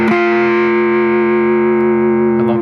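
A sustained electric guitar chord, fretted with the ring finger and the first finger on the third string at the tenth fret, rings out loud through distortion and effects, then is briefly retouched near the end.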